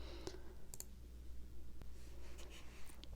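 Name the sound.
mouse click selecting a goal in an app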